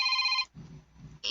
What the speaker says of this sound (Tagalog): Imo rong phone ang niring?